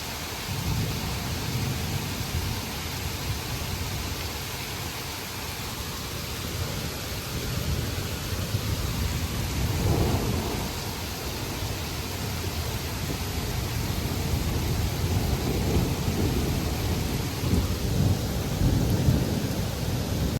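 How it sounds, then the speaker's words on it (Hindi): Steady rain falls during a sunny spell after a thunderstorm, a dense, even hiss of drops with low rumbling underneath that holds at constant loudness throughout. "अभी देखो वो बारिश भी हो रही है और साथ साथ धूप भी निकली है"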